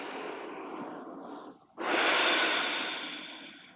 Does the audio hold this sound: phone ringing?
no